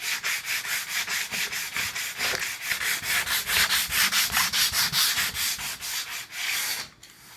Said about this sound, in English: You want to sand it down to it's almost baby butt smooth,